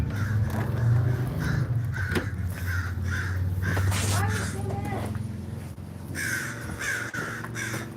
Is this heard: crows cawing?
yes